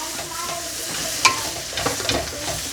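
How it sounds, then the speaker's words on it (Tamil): A spoon stirs a fish and onion mixture in a hot pan, with a low sizzle throughout and a few scraping clinks against the pan. "ஓகே, சூப்பராக மிக்ஸ் பண்ணி எடுக்க போகிறோம்."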